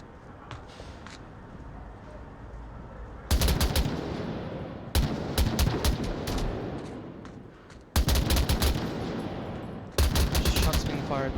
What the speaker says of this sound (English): Shots being fired by Duncan over here.